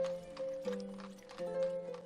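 Horses moving about at a stable in the village-building game Ostriv, with steady tonal game ambience and faint hoof and animal sounds throughout.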